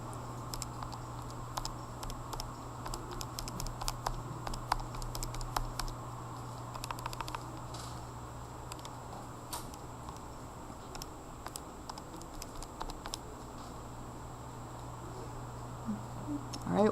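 Quiet, steady key presses tap out a curve equation on a graphing calculator, a soft run of small clicks with an irregular rhythm over a low constant background hum.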